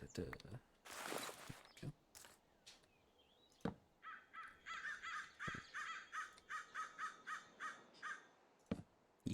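Birds in Minecraft giving a long run of rhythmic, raspy caws, about a dozen evenly spaced calls at moderate volume, with scattered clicks and thumps around them.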